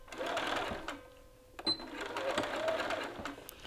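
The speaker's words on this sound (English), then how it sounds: "And we're going to stitch right along this edge through both layers of the lapel." Sewing machine stitching along a lapel edge through two layers of fabric, a steady close whir in two runs with a brief pause and a small click between them.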